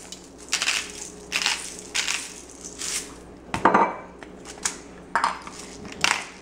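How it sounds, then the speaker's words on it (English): Salt goes onto a portobello mushroom, spinach and roasted pepper sandwich in a series of short, gritty, rhythmic crunching bursts, close and fairly loud, about eight in quick succession. "Now I'll put a little salt on."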